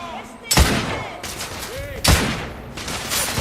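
Suppressive gunfire in the video game The Order: 1886 arrives as loud, close bursts of shots, with two sharp impacts standing out and voices underneath.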